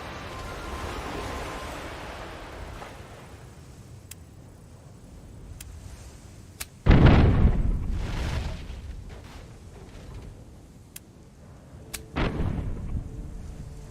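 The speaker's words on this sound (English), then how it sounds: "Sink that guy and fire a mortar over the shoulder" Cannon-like mortar blasts from a pirate ship in Tortuga: A Pirate's Tale: one heavy boom around the middle, a second sharper blast near the end, with lighter distant pops and rumbling game ambience between.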